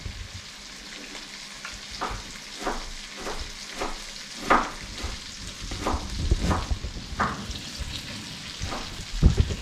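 Fries frying in a pan of butter give a steady sizzle and bubble, with repeated soft stirring scrapes and small pops rising through the crackle.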